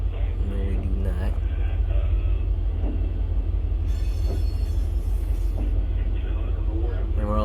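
A BNSF freight train on a local job in Run 8 Train Simulator eases forward with a deep, constant diesel rumble and faint mechanical clanks, while a voice talks over it.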